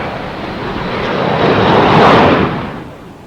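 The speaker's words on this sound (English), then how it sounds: "By using the M61A1 gun system, the F-18 is assured of combat-proven high rate of fire weaponry" An M61A1 Gatling gun fires from an F-18 aircraft in one sustained, roaring burst that swells to a peak and then fades away, loud and with no one talking over it.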